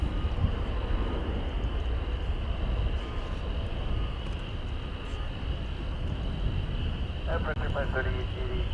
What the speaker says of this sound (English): There's the brand new plane as of last month, a MAX 8 going to Mexico City